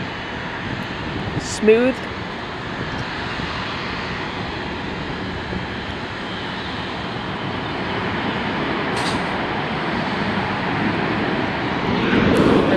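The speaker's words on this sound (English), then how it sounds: "Got a 737 landing." A Boeing 737 jet landing at Dulles airport, a steady broadband roar that builds gradually toward the end, with a brief voice speaking near the start.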